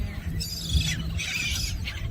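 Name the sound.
seagulls squawking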